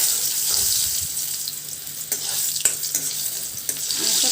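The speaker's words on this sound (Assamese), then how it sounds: "গোটা নহৰু দিছোঁ। অকণমান ৰঙচুৱা কৰি ল'ম।" Whole garlic cloves fry in hot oil in a pan, a steady close sizzle that runs throughout with a few louder pops and crackles and no talking.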